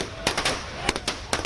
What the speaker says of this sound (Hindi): पटाखे फोड़े जा रहे हैं।